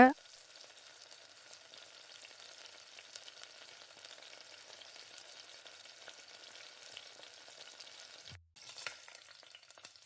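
Sweet ghee kuzhi paniyaram, Chettinad style, cooking in a paniyaram pan over a low flame, giving a steady, soft sizzle and gentle frying crackle with no talking, briefly interrupted near the end.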